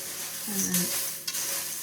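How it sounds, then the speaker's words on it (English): Cereal being mixed into melted chocolate in a bowl for Easter chocolate nests: soft stirring and scraping sounds with a brief clink of a utensil against the bowl, close by and short, with no talk. "mix them all together"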